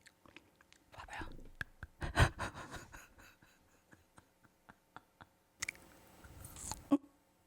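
Frozen, brick-hard Welch's jelly being chewed near the mic: scattered sharp crunchy bites and sticky clicks with quiet pauses, breaths and a brief soft murmur between chews.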